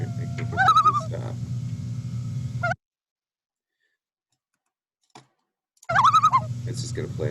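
Recorded wailing call of a common loon, a wavering bird cry heard in two bursts split by a stretch of near silence, each burst over a steady low background hum.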